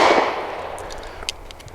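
A single shot from a custom Sig P320 pistol at the range, the loud initial crack already fading into a long reverberant decay, with faint clinks afterward.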